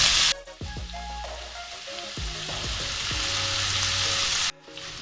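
Steak pieces cooking in garlic butter in a pan, a loud continuous sizzle that swells and holds before cutting off abruptly near the end, with some tonal kitchen hum underneath and no speech.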